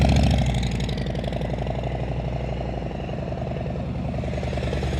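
A motorcycle engine at low speed under light throttle during slow-speed riding practice, pulsing with a steady rhythmic thump that swells briefly at the start and then holds close and even, with no talk.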